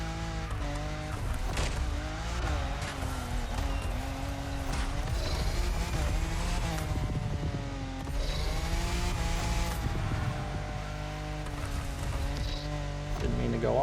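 Car engine revving steadily with tire squeal as the car slides through corners on a Japanese touge mountain road in The Crew Motorfest, continuous and up close, with the pitch rising and falling as the throttle is lifted and reapplied.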